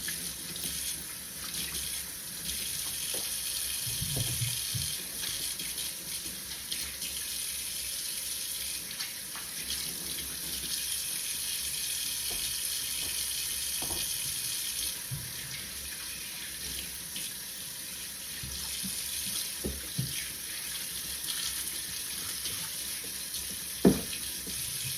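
Kitchen tap water runs steadily into a sink while carrots are rinsed, a constant broadband hiss with occasional soft splashes and a brief clunk near the end, no talking.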